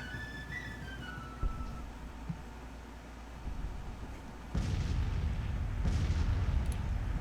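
Civil War battle in the strategy game Grand Tactician, with a rumble of musket volleys and artillery that swells to loud booming bursts in the second half.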